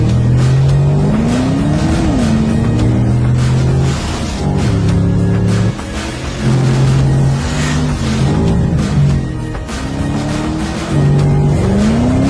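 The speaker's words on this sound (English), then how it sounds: "Our test driver Lars Kern recently drove the car at the Nürburgring and showed what the new Panamera is capable of." A 2021 Porsche Panamera is driven hard around the Nürburgring race track, its loud engine revving up and down through gear changes with tire squeal, sustained and close throughout with no talking.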